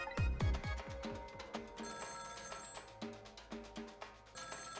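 An internal phone rings in the Ghost Trick video game, a repeated bright electronic ringing tone with a steady, insistent rhythm, loud and continuous over a low musical backing throughout, with no voices.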